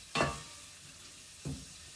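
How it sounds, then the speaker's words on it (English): A wooden spoon stirring a pot of Finnish salmon soup gives two short scraping swishes about a second apart, quiet and close, with a faint background hiss between them. "So I'm just going to give this the occasional stir with my Guzzling Gourmet wooden spoon"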